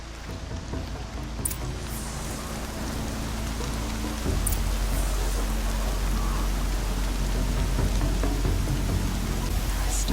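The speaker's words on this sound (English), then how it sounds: "Storm's been in the air for a while." Steady rain pours in a stormy open-world setting in Horizon Zero Dawn, a dense even hiss of drops on surfaces with a low rumbling bed underneath, growing slightly heavier partway through and continuing without pause.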